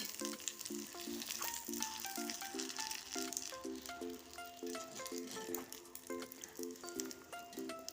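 Homemade rice-starch papad puffing in hot oil, a soft steady sizzle and patter heard faintly beneath a repeating melodic background music line.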